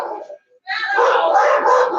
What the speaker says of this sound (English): I'm going to go see what these dogs are barking at.